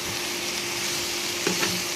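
Fish, potato and eggplant fry in oil in a wok, giving a steady, dense close-up sizzle with a couple of brief stirring scrapes near the end and no talking.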